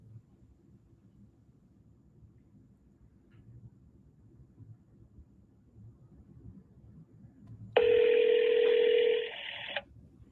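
Telephone keypad tones beep in a quick burst over a quiet low hum, followed by a steady electronic tone that holds for about two seconds and then drops off, with no speech.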